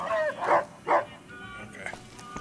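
A dog in the game Fallout: New Vegas gives a couple of short barks and yips close by, layered over game background sound, with a person talking around them.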